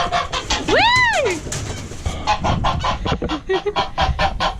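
A broody goose sitting on a nest of eight eggs lets out one loud, close honk that rises and falls, followed by a run of rapid, repeated honking calls.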